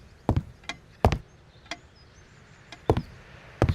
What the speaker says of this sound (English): just more creaky floor